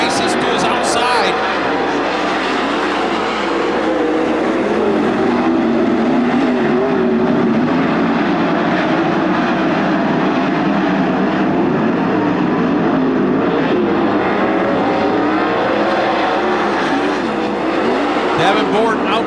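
Race cars at Attica Raceway Park roar continuously around the track, a loud sustained engine drone with passing surges and some tire noise, while an announcer calls the race over the top.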